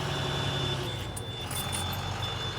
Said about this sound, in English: Building air pressure.